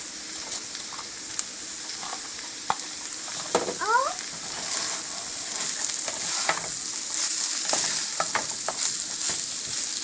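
Paneer pieces go into a pan of mixed vegetables frying over medium-high heat, giving a steady close sizzle with brief stirring scrapes and pops throughout.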